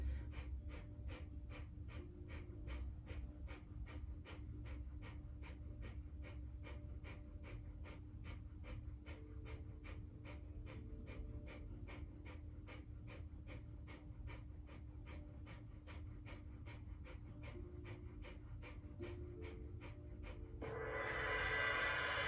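Rapid rhythmic panting breaths from navel pumping in a kundalini yoga kriya, evenly spaced short puffs repeating steadily for a long stretch, close and clear, with a louder rush of breath at the end.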